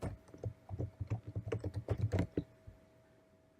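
Keys clatter on a computer keyboard as a file name is typed: a quick run of close, crisp clicks for about two and a half seconds, then quiet.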